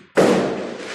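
A single firecracker bursts outside with a sharp, loud onset, then a broad rumbling wash that fades slowly over a second. No voices are heard.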